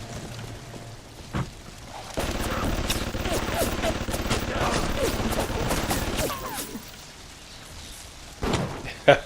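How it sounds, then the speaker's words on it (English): Machine gun turret in the Bioshock video game firing in a long sustained burst of rapid shots, with dense gunfire filling several seconds before fading, then a couple of sharp isolated bangs near the end. "After the guy gets completely slaughtered by the machine gun turret"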